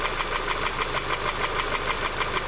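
Idling Honda CR-V VTEC engine with a loose tappet, giving a loud, steady, close mechanical clatter with a fast regular ticking knock, running without pause and with no talk.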